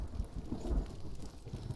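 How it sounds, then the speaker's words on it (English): Low rumbling thunder amid rain in the game Hellblade: Senua's Sacrifice, a brief, deep roll with soft patter, heard alone without talk. "Those thunder sounds are really good. The whole crack."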